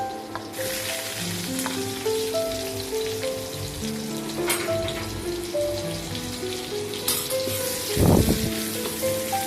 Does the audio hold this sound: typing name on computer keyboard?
no